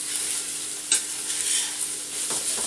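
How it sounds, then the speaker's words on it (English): Big chunky sausages browning in a frying pan sizzle with a steady, loud hiss, broken by a brief stirring scrape, close up and without talk. "the sausages are sort of browning there"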